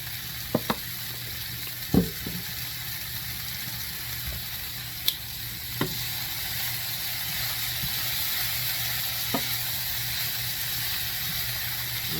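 Meatballs sizzle in a pan with a steady, even frying hiss throughout, broken by a few sharp clicks and scrapes, close and with no talking.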